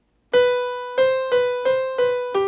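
A piano sounds a B note, struck about five times in an even pulse, each ringing tone decaying before the next, clear and close, ending on a lower note.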